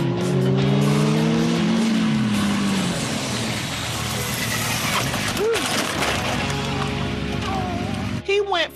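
A motorcycle pulling a stoppie, braking hard on the front wheel as the rear lifts, with a loud engine and rising, falling pitch sweeps, then a crash clatter near the end.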